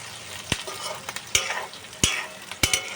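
Garlic and cashews sauté in a pan, a soft sizzle running underneath while a utensil stirs and scrapes in four sharp, irregular clacks, close and moderately quiet, with no voices.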